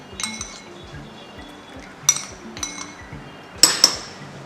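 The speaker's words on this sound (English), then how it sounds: "the next thing we're going to do now is to mix all this together" Hair treatment ingredients are stirred together in a bowl, with a few sharp clinks and taps of a utensil against the bowl rising above quiet scraping and soft wet sounds.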